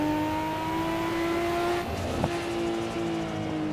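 Nissan Skyline GT-R R34 engine in the racing game Assetto Corsa holding a steady, droning tone, with a brief dip and a small shift in pitch midway, loud and continuous without talk.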